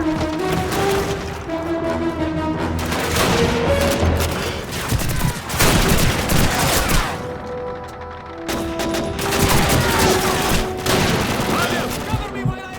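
MG-42 machine gun fire in the World War II shooter Call of Duty 2 (2005), dense rattling bursts in long stretches with brief pauses, loud and close, with shouted voices mixed in.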